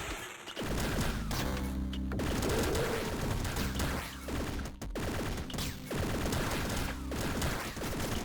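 Rapid shotgun blasts from the video game Downwell fire in dense, overlapping bursts, loud and close, with crashing game effects and a busy electronic backdrop running throughout.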